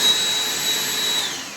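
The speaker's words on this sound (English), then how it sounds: "a fantastic little vacuum" A Black+Decker Dustbuster HHVI320JR02 cordless handheld vacuum runs steadily up close with a loud, bright motor whine and whooshing airflow, holding an even pitch throughout with no talking.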